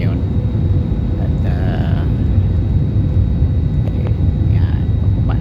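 Cabin rumble of an airplane landing at Davao International Airport, a loud, steady low roar filling the whole stretch, with brief faint voices over it.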